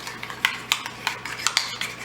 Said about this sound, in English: we're gonna go ahead and we're gonna stir this all up